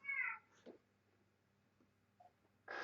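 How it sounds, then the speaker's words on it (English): Cat meowing, one clear meow at the start, a faint short sound midway and a louder meow at the end, with quiet gaps between. "Cat."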